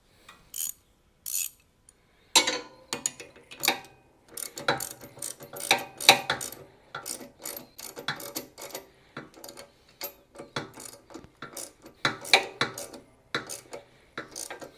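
A ratcheting wrench working on a Harley-Davidson motorcycle during a rear fork install, giving bursts of quick metallic clicks and ratchet rattles in an irregular rhythm, close by, with short pauses between runs.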